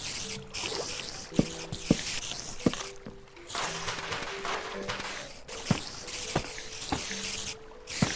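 Water flowing in Minecraft, with a steady soft trickle running under repeated short drips and wet plinks, quiet and fairly close.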